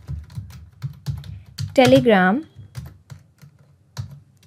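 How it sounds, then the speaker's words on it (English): Quick, steady clicking of computer keys as a name is typed into a form, close and fairly soft, running under a voice that speaks briefly in the middle. "here I'm typing the name of workflow"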